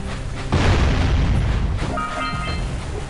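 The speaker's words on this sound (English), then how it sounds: "I don't know where these bombs are coming from." A deep boom from a bomb exploding in the Jak and Daxter video game rolls into a sustained rumble, followed by fainter electronic game tones.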